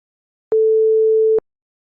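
A steady 440 Hz A note from an FM synthesizer built in Flowstone: one pure, unwavering electronic tone held for just under a second, alone against silence.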